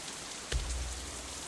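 Steady rain ambience from the visual novel Katawa Shoujo: a continuous hiss of rainfall with a soft low rumble swelling briefly, no voices.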